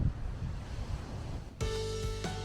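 Ocean surf at an unguarded beach on a cloudy day, a steady wash of breaking waves and wind noise that gives way to an abrupt tonal hum partway through, with no talk.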